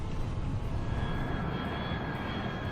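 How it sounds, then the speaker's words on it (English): A turboprop airliner engine on approach in Turboprop Flight Simulator gives a continuous loud, broadband roar with a steady whining tone on top, unbroken throughout. "Captain Protaziuk takes his plane lower to get a first-hand look at landing conditions"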